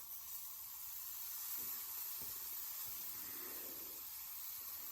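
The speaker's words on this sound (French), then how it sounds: "Alors il y a un peu de vapeur, c'est normal" Steam hissing steadily from a hot pan while pancakes cook over lowered heat, a broad, even hiss holding at moderate level throughout with faint low thumps underneath.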